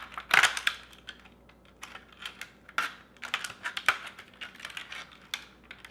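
A blade snips and scrapes through the plastic base of a floating crate, cutting small X shapes in alternating rows, giving a series of short, crisp, irregular clicks and crunches up close.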